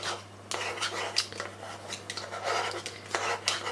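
Corn flour being stirred into a sweet chilli sauce mixture, with a spoon clinking and scraping against the bowl in quick, irregular taps and rubs, close and fairly quiet over a steady low hum.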